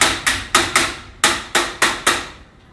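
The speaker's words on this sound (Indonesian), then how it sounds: "Ini kita pukulkan pakai palu" A hammer strikes a plastic Hercules push-type corn planting tool seven times in a sharp, uneven rhythm. Each hit is a loud, close crack that rings briefly before fading.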